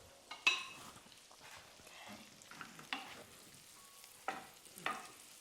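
Seasoned food, generously sprinkled with house seasoning, sizzles softly in a pan while a spoon stirs it, with a few sharper scraping clicks spread across the stretch and no voices over it.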